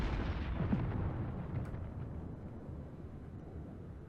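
Warship guns fire in World of Warships, a deep booming blast that rolls into a long, low rumble and slowly fades, with no voices over it.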